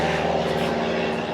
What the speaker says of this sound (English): There's a lot of planes.